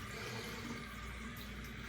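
Cold well water runs in a rinse, a steady, even rush of flowing water that stays constant and fairly quiet, with no talk over it.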